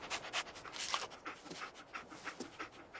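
Dogmeat, the companion dog in a video game, panting in quick breathy bursts with short sniffs, close and fairly loud with no talking.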